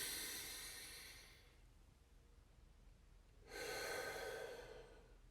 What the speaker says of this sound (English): simply by breathing through the nose